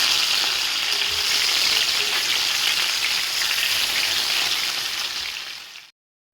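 Fish frying in hot oil, a loud, dense and steady sizzle heard up close with no talk, continuing evenly for several seconds before cutting off abruptly.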